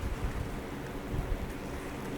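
Rain and thunder in a Call of Duty Black Ops 2 map, a dense, steady hiss of rain with low rumbling underneath, fairly quiet and continuous with no voices.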